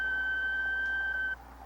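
A single steady electronic beep from an answering machine, one long tone held for over a second before cutting off, clear and alone with a faint hiss beneath.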